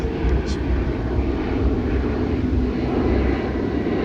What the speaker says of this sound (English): It's a plane again.